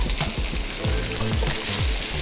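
Loud, steady sizzle and crackle of egg frying in hot oil in a wok for char kway teow, with scraping stir noises over the continuous hiss, close up and without speech.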